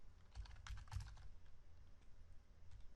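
Quiet keystrokes on a computer keyboard during code entry, in short clustered bursts with pauses between them, soft and close with no voices.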